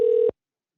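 A single short telephone keypad tone sounds as the 1 key is pressed, clear and steady for under half a second before cutting to silence.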